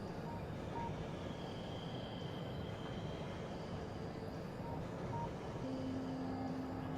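Train rolling along in the factory game Factorio with the Ultracube mod, a steady low rumble of wheels on rails with faint tonal hums, continuous and fairly quiet throughout.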